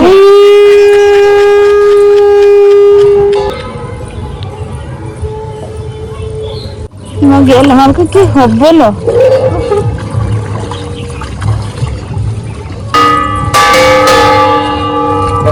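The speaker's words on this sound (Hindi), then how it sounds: "केडी शंख फुंकियो" Conch shell blown during a Vishwakarma puja celebration, a long sustained horn-like tone followed by wavering blasts and bell-like ringing, loud and close with voices talking and calling around it.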